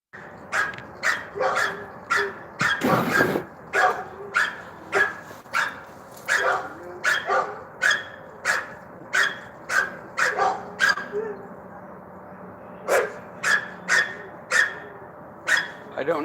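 A dog barks repeatedly in steady sharp bursts, fairly close and loud, with about twenty barks over the span and a brief burst of noise partway through.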